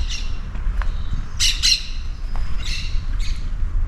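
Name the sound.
birds singing in a tree-lined street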